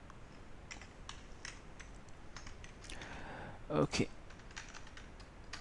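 Soft, quick keystrokes on a computer keyboard patter along steadily at close range, with a brief louder clatter near the end and a short spoken word from a nearby voice.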